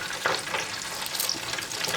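Panko-breaded seafood, king crab pieces and shrimp, deep frying in a deep fryer, giving a steady close bubbling sizzle with crackling hiss throughout and no talk.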